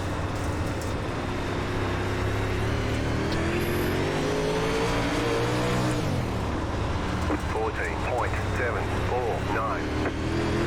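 A dirt UMP modified race car engine in the iRacing sim roars loud and continuous, its pitch climbing and falling as the throttle opens and lifts, with a voice talking over the drone.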